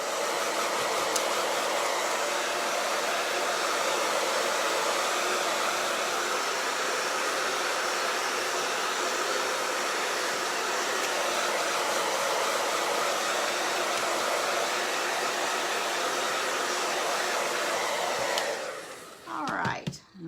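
A hair dryer blows steadily and loudly for about twenty seconds, drying chalk paste on a birdhouse design. It cuts off abruptly at the end.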